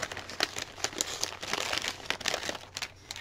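Plastic or paper bag from a peacock-themed junk journal kit crinkles as it is handled up close, a steady run of dry rustles and crackles with short louder bursts throughout, no voices.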